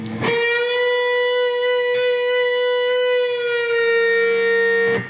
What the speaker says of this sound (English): I'm going to pick the B string one time where my ring finger is. And after I picked it, I'm going to push that note up a full step.